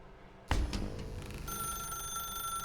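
A telephone in the video game The Stanley Parable starts ringing with a sudden onset, its bright electronic bell tone sustaining steadily and moderately loud.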